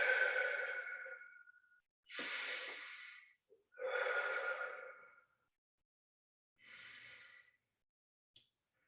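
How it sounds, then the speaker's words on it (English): Slow, deep breaths during a meditation session come close and alone: a long exhale, then several airy inhales and exhales in turn, separated by short silences. "And another deep breath."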